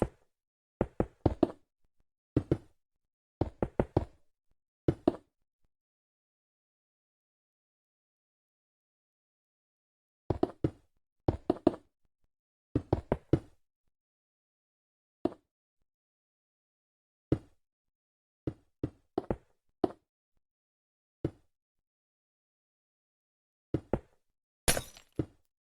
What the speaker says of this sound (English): filling in the gaps with the glass